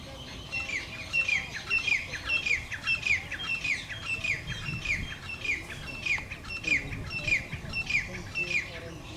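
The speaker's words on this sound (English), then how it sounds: "Some little guy here making a squawk." A small bird in grassland gives a run of repeated sharp squawking calls, about a dozen evenly spaced chirps over several seconds, moderately near against faint outdoor background noise.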